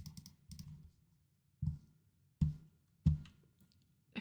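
Computer keyboard keys clatter in short clusters of quick taps, separated by brief pauses, close and fairly quiet, as someone types out notes.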